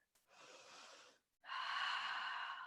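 A deep breath taken during a yoga exercise: one long, close, airy inhale, a brief pause, then a louder, fuller exhale. No one talks.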